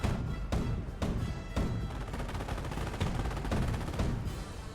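Gunfire in the World War II strategy game Company of Heroes, with rapid machine-gun bursts and sharp rifle cracks over a dense, continuous battle din, evenly loud throughout.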